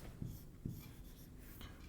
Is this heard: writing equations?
yes